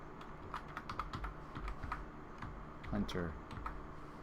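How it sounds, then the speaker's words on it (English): Fingers type on a computer keyboard during a Madden-style football franchise game, producing a quick series of close clicking keystrokes in bursts, with a voice briefly speaking over them. "Let me type that in."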